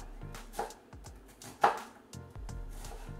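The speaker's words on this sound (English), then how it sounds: "with the onion, we're just gonna go ahead and slice this baby into little dices" A kitchen knife dicing an onion on a cutting board for potato salad, a few sharp chopping knocks spaced irregularly among quieter blade taps, close and clear with no talking.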